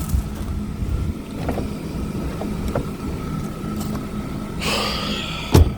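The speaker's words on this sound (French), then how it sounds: "on entend le chauffage, mais il fait pas de bruit le moteur" Steady fan hiss of the heater blowing inside an Opel Astra G 1.8 16v car, a continuous broadband rush with a faint low hum beneath and a brief louder burst near the end.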